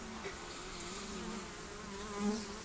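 Honey bees from a top bar hive buzz steadily and close by during an inspection, a continuous droning hum with one bee swelling louder as it passes near.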